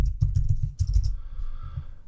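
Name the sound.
typing on a computer keyboard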